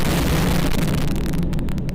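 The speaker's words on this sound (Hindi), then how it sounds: "दिल दहला देने वाला ये धमाका" A rocket strikes a building in a war zone, producing a loud, sustained explosive roar and rumble that fills the whole moment and then begins to break up and fade.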